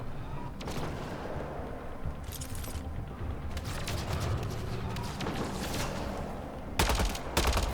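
Turret gunfire in Mass Effect: Andromeda, a continuous dense stream of rapid shots with loud bursts near the end, heard alone without talk.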